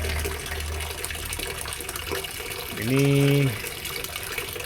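Water pours steadily from a fountain spout into a fish pond, a continuous close splashing rush, with someone speaking briefly over it.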